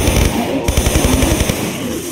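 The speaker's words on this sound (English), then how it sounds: "draw the MP5 and keep firing" An MP5 submachine gun rattles off a rapid, evenly spaced burst of shots in Tomb Raider III's Antarctic RX Tech Mines level, loud and close over a hissy backdrop.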